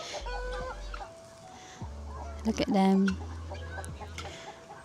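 Chickens in a Norman village setting cluck and murmur nearby in short bursts, with someone speaking softly over them partway through.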